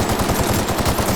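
Rapid automatic gunfire in the video game The Outer Worlds cracks out in a fast, loud, close burst of repeated shots with no pause.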